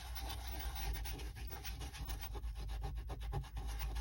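A fingertip rubs gritty paint over a stencil in quick, soft scratchy strokes, close and quiet, with a rhythmic sanding texture and no talking.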